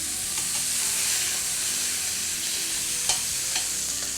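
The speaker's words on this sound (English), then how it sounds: "it's important not to touch your steaks for at least 2 minutes to get that nice caramelization on there" Steaks sear steadily in a stainless steel pan, a loud continuous sizzle and crackle with a few sharper pops, no voices over it.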